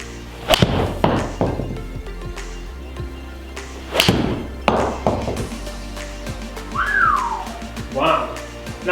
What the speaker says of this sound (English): I'm going to hit you a bunch of shots with the 8-iron, the 6-iron and the 4-iron